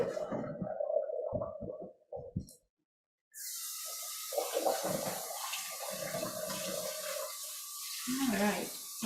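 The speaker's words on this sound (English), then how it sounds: "we're rinsing it with a little bit of cool water also" Cool tap water runs and splashes over cooked rice draining in a colander, a steady close hiss after a brief silence, with talk heard before it starts.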